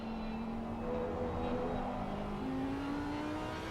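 An Audi race car drones steadily in a sim racing game, holding a sustained engine tone with slight pitch shifts. It is quiet, distant and continuous.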